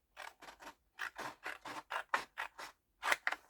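Scissors cutting down the middle of a sheet for a scrapbook album, about a dozen crisp close snips in an uneven rhythm with short pauses between.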